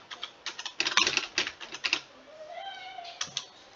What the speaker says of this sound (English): type in whatever you'd like